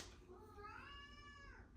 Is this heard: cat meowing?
yes